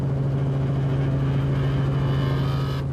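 A Team Castrol Toyota rally race car drives through sugarcane fields at the Nkomazi 400, its engine a steady, loud drone holding one pitch throughout with no voices.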